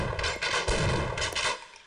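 Rapid gunfire from a weapon in Half-Life, a dense run of sharp, loud shots repeating over roughly two seconds with short gaps, close and unaccompanied by speech.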